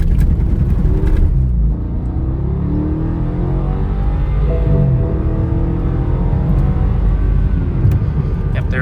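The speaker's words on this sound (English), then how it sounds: "we're gonna go ahead and do the 0 to 60 performance demonstration for you" A 2012 BMW 650i accelerating from 0 to 60 gives off a loud, steady engine roar with rising, sweeping tones heard from inside the car, continuous throughout.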